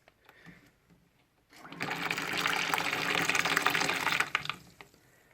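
Water gushes loudly and steadily through a Sentinel Eliminator TotalGuard heating system filter for about three seconds, following a quiet start with faint handling noises.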